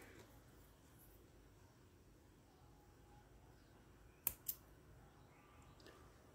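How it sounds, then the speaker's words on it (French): Scissors snip the end of a thread during embroidery work, two quick, sharp clicks close together in an otherwise very quiet room. "je vais juste couper le petit bout"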